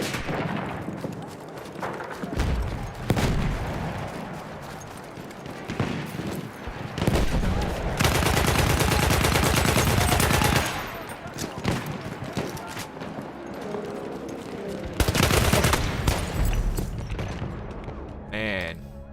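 Battlefield 1 online match with bursts of machine gun fire and other gunshots, loud sustained rattling stretches separated by quieter gaps, with someone talking over the action.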